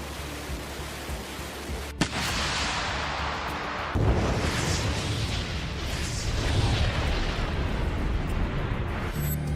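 Russian artillery shelling near Zaporizhzhia, with a sharp blast at about two seconds and a heavier boom at four, each followed by sustained, roaring rumble that fills the rest of the stretch.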